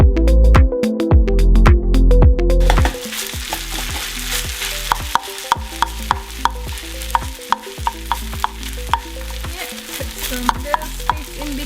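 Kimchi fried rice with leftover kimchi, sesame oil and pepper sizzles loudly in a pan, a dense continuous frying hiss broken by regular sharp clacks of a utensil stirring and scraping.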